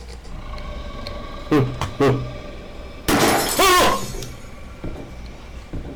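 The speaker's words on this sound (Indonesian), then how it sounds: "Mana suara pecahan tadi mana?" Glass shatters in a horror video game: two short breaking bursts near the start, then a louder, longer crash of splintering glass midway, with quieter game ambience and a few faint clicks afterward.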